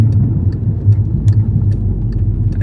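Volkswagen Mk6 GTI with an APR K04 turbo upgrade on a 93-octane tune at full throttle: a loud, steady engine drone that holds without a break, with faint clicks on top.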